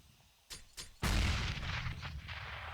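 In Counter-Strike on the Overpass map during a competitive esports match, two sharp gunshots are followed by a heavy grenade blast that rumbles and fades over the next couple of seconds, loud and close.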